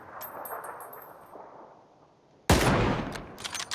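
Gunfire in PUBG on the Erangel map: a muffled, rumbling stretch of distant shooting gives way to a sudden loud, close burst of rapid shots that continues to the end, with no talking.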